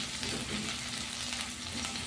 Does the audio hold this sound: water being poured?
no